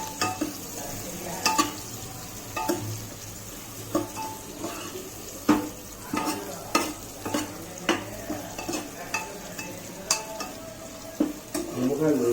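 Onions for Hyderabadi chicken haleem fry in a pan until translucent, a steady sizzle broken by repeated scraping knocks of a spoon stirring against the metal, close and fairly loud.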